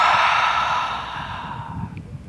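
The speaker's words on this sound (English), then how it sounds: "we're gonna exhale out loud through the mouth, just to try and release all the rest of the tension in our body" A single long, loud breath pushed out through the mouth during a gentle hip-opening yoga flow, a breathy whoosh that starts strong and fades over two seconds into quiet room sound, with no speech.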